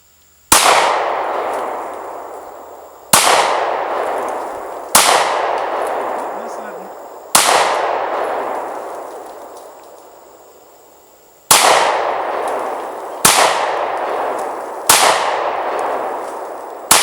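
Seven sharp metallic clangs from a Sccy 9mm pistol's rounds striking a steel target, each ring decaying slowly, spaced irregularly a couple of seconds apart, loud and clear with no talking.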